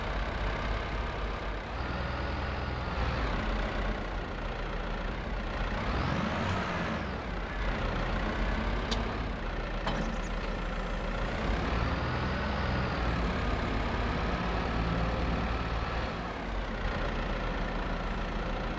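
A 6110 tractor in a farming video game runs continuously, a loud, steady engine drone with slight shifts in pitch and no pauses, heard close and alone.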